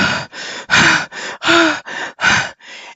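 A voice imitates the rapid, gasping breaths of a panic attack: eight quick, loud, close-up in-and-out breaths in a steady shuddering rhythm, some with a slight voiced catch.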